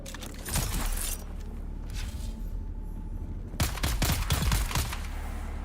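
Rapid bursts of gunfire in Dune Awakening, loud and close, with a first flurry of shots, a quieter stretch of rumbling background, then another dense volley of rattling shots near the end.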